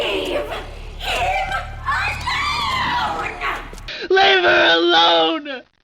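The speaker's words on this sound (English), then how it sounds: "knock one last time and listen to Samantha Max's angrily scream" Samantha Maxis screams angrily in the video game Classified, a loud, strained, wavering shout that runs in several long bursts, with a brief gap before a final shrill stretch.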